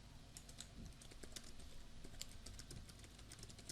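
Rapid, steady typing on a computer keyboard, dense overlapping key clicks with no pauses and no voices, close and moderately loud.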